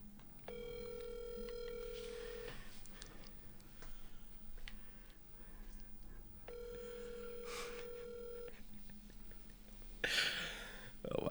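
Outgoing telephone call ringing back: two long electronic ring tones separated by a pause, heard close with faint low background hum and a brief rustle near the end.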